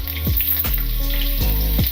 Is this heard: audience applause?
no